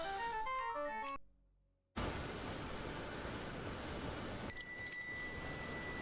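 Small chimes sit on the ground in a Starfield game scene, giving a few bright bell tones over steady broadband noise near the end, after a melodic tone passage and a brief silence.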